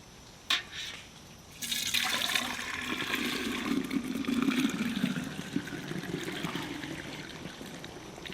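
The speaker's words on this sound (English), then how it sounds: "I've got to transfer just the liquid into here" Dye liquid from a rinsed bandana pours in a steady, rushing stream into a container, starting abruptly after a small knock and running continuously at close range before tapering off.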